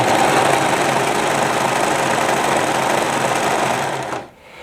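A serger sewing machine runs steadily while stitching a seam, a loud continuous whirring hum that stops abruptly near the end, with no talking.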